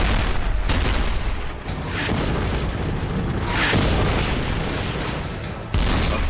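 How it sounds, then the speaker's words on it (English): Heavy WW2 gunfire from Soviet tank guns in battle, a dense, continuous barrage of loud booms and blasts with no pauses, rumbling low and close throughout. "The Russians shot as much as their barrels were able to."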